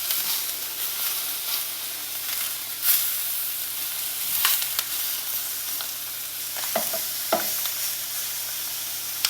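Scallops pan-searing in a pot give off a steady, close sizzle and frying hiss, with a few brief clinks and crackles and no talking.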